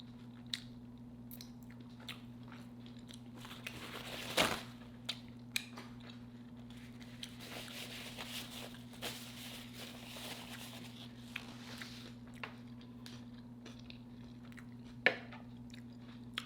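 Chewing a Popeyes homemade chicken wrap with pickle, soft moist mouth sounds with occasional crunchy bites and clicks, close and fairly faint over a steady low hum, no talking.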